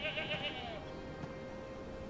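Sheep in the game Ashes of Creation bleat in a wavering call at the start, fading into a steady ambient hum.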